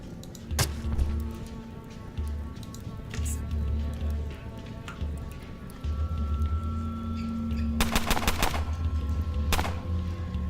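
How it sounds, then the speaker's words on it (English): Gunfire in the turn-based game Underrail: several sharp broadband shots, including a tight rapid burst near the end, over a steady low game ambience and droning music. "Oh, that guy shot the gentleman behind him."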